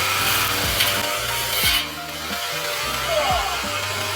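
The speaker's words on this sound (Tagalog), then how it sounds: "That's why I'm scared talaga dahil sa malalaking grass cutter na katulad dito." A large grass cutter runs steadily while a garden is being cleared, its engine note dipping and rising in repeated pulls as it works through growth, loud and close throughout with no talking.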